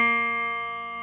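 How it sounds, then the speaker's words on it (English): A single sustained high B flat on a trombone or baritone, played in first position or open, held alone as one steady, bright, rich tone that fades slightly over about a second. "First one at the beginning is a B flat."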